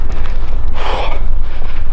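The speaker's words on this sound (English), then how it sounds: "I am now ridiculously out of breath from doing that run." A heavy, breathy gasp after a run, close and loud, surging once in the middle over rumbling wind-like background noise.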